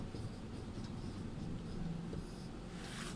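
Pen or chalk writing by hand during a Sanskrit lesson, a steady soft scratching texture running throughout without talk.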